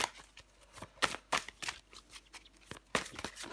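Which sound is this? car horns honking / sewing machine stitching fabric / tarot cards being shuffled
tarot cards being shuffled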